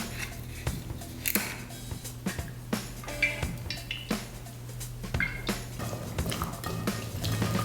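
Pumpkin pieces are mixed with salt, pepper and a drizzle of olive oil in a dish, giving a series of light clinks and scrapes of utensil against dish at an irregular pace, close by.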